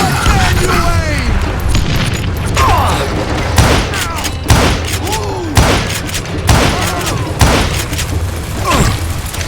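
Gunfire in Call of Juarez: Gunslinger, a rapid series of loud close shots and booming impacts bursting at irregular intervals over a dense, busy game soundscape.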